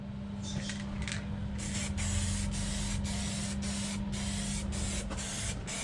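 An aerosol can of quick-drying gloss Hot Lips paint sprays parts for a Toyota Hilux LN106 in a series of short, loud hissing bursts with brief gaps, close up over a constant low hum.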